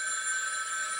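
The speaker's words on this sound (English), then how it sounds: "when the old drama phone started ringing" An old-style telephone bell rings continuously, a bright, steady metallic trill at moderate loudness with no voices over it.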